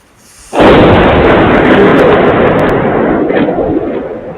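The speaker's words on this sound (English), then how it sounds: "They fired more than one missile." Missile fire erupts in a loud, sudden blast, then a sustained roaring rumble that keeps going for several seconds, with no talking over it.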